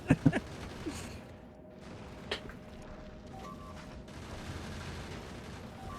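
Rapid burst of gun turret fire in the factory-building game Factorio, a few sharp cracks at the start followed by a single later shot over a steady mechanical hum, with no talking.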